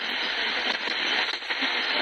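Shortwave band static and hiss from a VEMAX V.K.-152 FM/MW/SW radio while tuning, a steady broadband noise with faint crackles and slight fluctuations, fairly loud and continuous with no voices.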